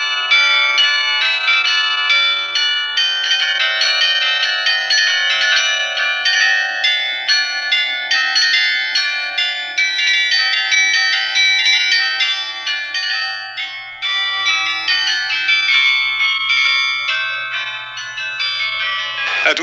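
Carillon bells of the Douai belfry playing a continuous, loud, ringing melody of overlapping chimes that fades out at the end.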